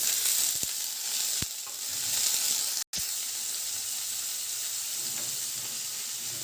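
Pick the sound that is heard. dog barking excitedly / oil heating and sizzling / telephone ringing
oil heating and sizzling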